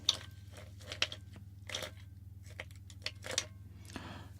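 Ice cubes crunching in close, crisp bursts, about a half-dozen separated by short pauses, quiet and intimate over a low steady hum.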